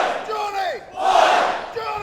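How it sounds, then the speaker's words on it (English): A wrestling crowd at a Phoenix Rising event in Sydney sings the signature Robbie Eagles chant in unison, a loud, sustained arena chorus with rising and falling sung phrases and no commentary over it. "The crowd singing along to the signature Robbie Eagles chant."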